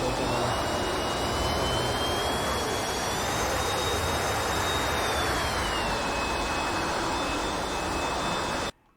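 A-4E Skyhawk jet engine in a flight simulator throttling up, a steady loud roar with a high whine that climbs in pitch then settles, continuous until an abrupt cut at the end, no voices.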